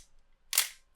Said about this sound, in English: we can close our back and fire off the first shutter